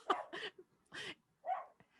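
A pet dog gives several short barks and yips at uneven intervals, fairly close and loud, with brief silences between them.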